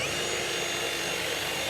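A power drill fitted with a Forstner bit bores a hole straight through, giving a continuous steady whine and grinding buzz with no pauses and no speech.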